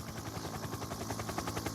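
A helicopter hovers overhead at a cycling individual time trial in Milan, its steady rotor beat thudding in a continuous rhythmic chop over a dense broadband whine, fairly distant and unbroken throughout.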